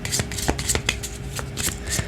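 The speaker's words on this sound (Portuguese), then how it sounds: "e vamos colocar o baralho cigano." A Cigano (Lenormand) fortune-telling card deck is shuffled and handled up close, giving quick crisp riffling flicks and soft papery slaps in an irregular burst with no talking.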